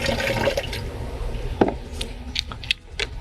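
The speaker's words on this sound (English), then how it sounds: "Then get about a gallon of clean water in there." A gallon of clean water poured into the tank of an AccuFlo soil injector, a steady close splashing fill that thins out into scattered drips and light knocks of the container.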